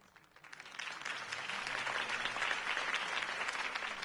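A crowd at a political campaign rally in Telltale's Batman video game breaks into applause, swelling within a second into loud, sustained clapping that holds steady throughout.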